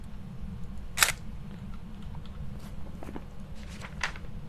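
A single sharp camera shutter click from taking a photo in the Phasmophobia video game, close and distinct over a steady low hum, followed by a few faint soft taps.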